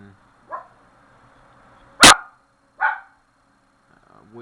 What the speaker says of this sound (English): What's that dog barking at?